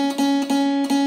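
A guitar note fretted at the second fret of the second string rings out clearly and is picked repeatedly in an even rhythm, each attack sustaining into the next, with no voice over it.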